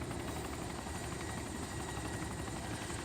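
A helicopter in the game DayZ runs its engine and main rotor at a steady, dense drone with a fast rhythmic chop, loud and continuous, with no voices.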